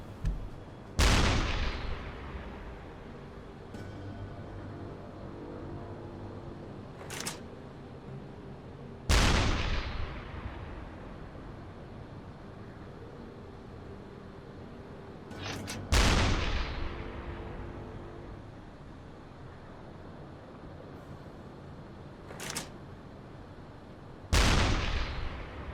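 A submarine deck gun fires at a ship in the Uboat video game, four booming shots spaced several seconds apart, each a loud sharp blast with a long rolling decay, over steady engine and sea rumble.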